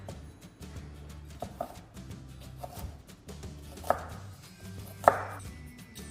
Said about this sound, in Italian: Prendiamo adesso il nostro quarto di cipolla e lo trittiamo grossolanamente.